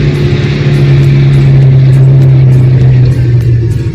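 A car grinding up a steep mountain road near Hanle in Ladakh in first gear, its engine holding a loud, steady low drone with a strained hum and no voices.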